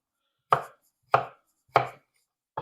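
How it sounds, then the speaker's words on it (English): A knife dices a potato on a cutting board in four crisp, evenly spaced chops, each a sharp close thud with a short decay and clear silence between them. "We're also dicing this, and again, trying to get it about the same as the carrot in terms of size."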